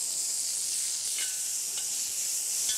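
Chilies, spring onion and tomato sizzle steadily in a hot pan, a dense even hiss of frying throughout with a few faint clinks of stirring, no voices.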